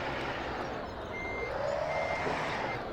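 Semi-truck driving in the Farming Simulator 17 video game, with a low, steady engine rumble and a thin electronic beeping tone that repeats over it, moderately quiet and without voices.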